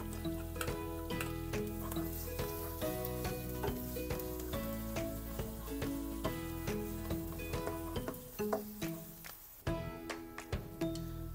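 Garlic and a medium red onion fry in a pan, a steady loud sizzle with frequent clicks and scrapes of stirring, and a short lull near the end before the crackle resumes.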